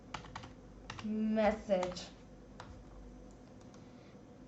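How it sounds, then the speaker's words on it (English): Fingers typing on a computer keyboard while writing Python code, a quick run of light clicks and taps alongside a speaking voice, fading to a few scattered keystrokes. "so I'm typing here"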